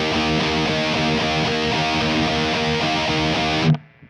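A guitar chord rings out with the open low E string, heavily distorted and sustained at steady loudness for several seconds before being abruptly muted.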